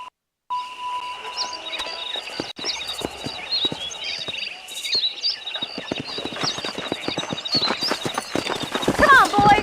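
Horses ride along in Red Dead Redemption, a steady rapid clip-clop of hooves near and loud throughout, with an occasional whinny over game ambience and voices.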